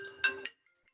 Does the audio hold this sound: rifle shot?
no